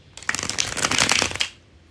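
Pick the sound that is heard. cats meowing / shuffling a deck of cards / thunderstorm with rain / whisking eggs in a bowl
shuffling a deck of cards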